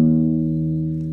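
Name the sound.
acoustic guitar open E string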